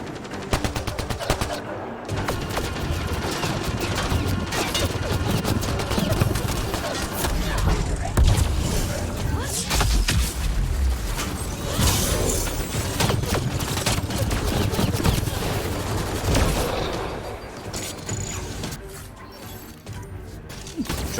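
Loud gunfire crackles almost without a break in a Mass Effect: Andromeda battle, shotgun blasts and rapid shots piled over crashes and mechanical clatter, with a brief lull near the end.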